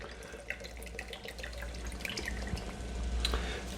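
Water runs from a kitchen tap, a steady close splashing stream with scattered drips that grows slightly louder toward the end; nobody speaks.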